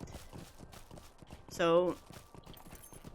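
Horse hooves clip-clopping in the game Lord of the Rings Online, a steady run of soft, close thuds that goes on the whole time, with a short whinny partway through and someone talking over it.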